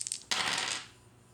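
Three dice are rolled for a Lego skirmish wargame: a few light clicks, then a sudden bright clattering rattle that fades over about half a second, close and alone.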